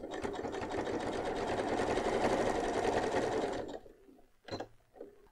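A sewing machine running steadily at speed while stitching an elastic seam on a dress, loud and continuous for a few seconds, then stopping, followed by a few faint handling knocks.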